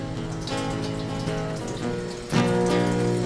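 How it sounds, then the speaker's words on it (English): A kitchen tap runs steadily as mushrooms are washed in the sink, a close, even hiss of flowing water that grows louder midway as the stream strikes the mushrooms or basin. "Always wash your mushrooms"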